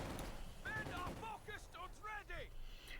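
Rapid gunfire from M1 carbines and assault rifles in Company of Heroes 2, a German-versus-US-forces match, cracking in bursts across the middle of the scene while a commentator talks over it.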